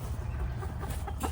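Chickens cluck softly and close by in a short, continuous burst of low, throaty farmyard murmuring with no talking.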